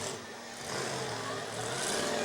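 Demolition derby car number 841 idling and revving at a county fair, engine running slightly rich with flames from the exhaust; a loud, steady engine roar that swells midway, with crowd noise mixed in.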